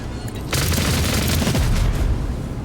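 Rapid bursts of gunfire in Warhammer 40,000: Rogue Trader, a dense loud fusillade starting after a brief lull and rolling on steadily with booming low rumble underneath.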